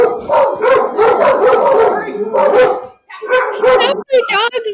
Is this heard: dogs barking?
yes